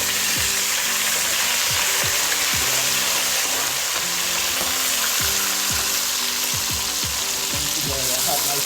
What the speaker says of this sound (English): I'm using the oil from the fried fish. I have to pre-cook the natural seasoning.